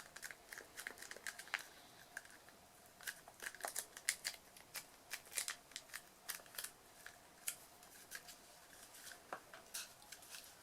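Cardboard from a toilet roll tube being folded and creased by hand, close and quiet: scattered crisp crackles and scrapes, sometimes in short bursts, across about ten seconds, with no speech.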